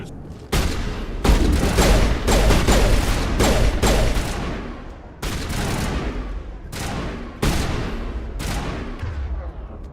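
Gunfire from Mass Effect 1 rattles in loud, dense bursts, several volleys separated by short gaps, close and booming with no talk over it.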